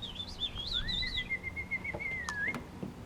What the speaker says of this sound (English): a little bird with a red breast flew on it and sang a song to me